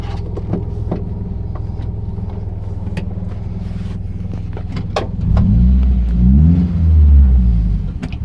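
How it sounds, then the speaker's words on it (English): A car idles with a low rumble and light clicks, then the engine revs up loudly and surges as the car pulls away, with the rising and falling drone close by. "Alright, we might take it for a drive."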